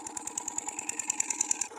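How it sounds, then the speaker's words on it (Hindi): A small engine chugs nearby with a fast, even putter and a faint high whine, running alone in a brief stretch without talk. "और जो इंजन चल रहा है साइड में है"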